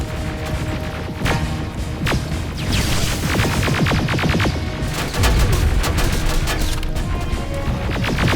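Dense, continuous gunfire in the Terminator Resistance video game, rapid bursts and sharp cracks layered with crashes and booms, loud and close throughout a chaotic assault.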